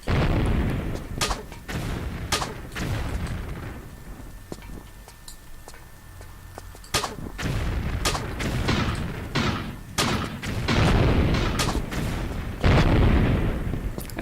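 Enemy gunshots ring out in a Tomb Raider custom level, a series of sharp, booming reports at irregular intervals, loud and punchy, with a quieter lull in the middle and a dense cluster near the end.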